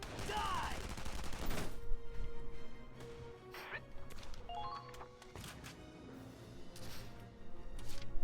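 Bursts of gunfire trade back and forth in a Valkyria Chronicles 4 battle, loud, layered rifle and machine-gun shots over game music and effects, with a voice speaking intermittently.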